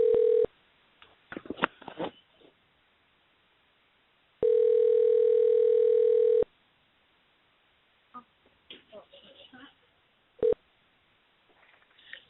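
Telephone dial tone in a live call-in radio show setting, a steady tone alone for about two seconds, preceded by bursts of dialing tones and followed by a short final beep, with faint background noise between.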